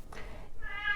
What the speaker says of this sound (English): Oh, there's Kitty Cat, she's awake.